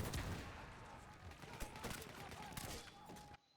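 Suppressed pistol shots in Battlefield 1 come as a busy run of sharp, muffled cracks over constant battlefield din, then cut off abruptly near the end.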